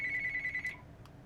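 A mobile phone rings with a steady high electronic trill that lasts under a second and then stops, quiet and close over a faint background, with no voices.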